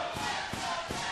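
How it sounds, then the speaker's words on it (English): Wrestling fans in a packed arena at a Ring of Honor event chant in dueling rhythmic waves for Richards and Rhino, a dense continuous crowd roar with periodic thumping pulses about every 0.4 seconds. "You hear the dueling chants as fans in the Dewburns Arena, supportive of both Richards and Rhino."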